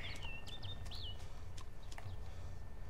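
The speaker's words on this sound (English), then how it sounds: "That's a little bird." A small bird chirps in the DayZ Epoch video game, with several short high tweets and whistles over a steady low ambient rumble.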